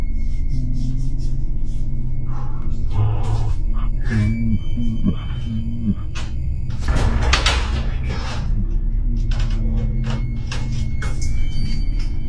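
A heavy door moving and thudding somewhere in a quiet room, with a sustained low rumble underneath and a few sharp knocks and bangs, the loudest cluster near the middle.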